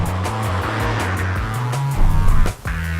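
A 2014 Ford Fiesta ST with a 6-speed manual drives hard, its engine note loud and close, rising and shifting pitch with a brief burst of tire noise near the end.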